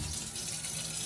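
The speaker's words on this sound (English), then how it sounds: "get some cold water" Cold water runs steadily from a tap into a sink, a continuous close, bright hissing splash with no pauses.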